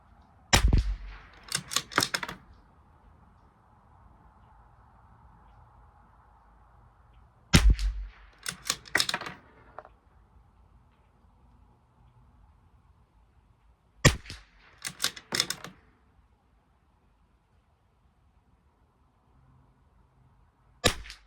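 A Bergara B14r rifle fires shots during an ammunition test at a rifle match, each one a sharp, loud crack followed by brief clatter, in three widely spaced clusters separated by long quiet gaps.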